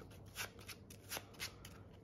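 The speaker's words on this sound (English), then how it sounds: "So we'll shuffle these up." Yu-Gi-Oh! trading cards are shuffled by hand, giving several quick riffling bursts in an uneven rhythm, close and quiet with no voices.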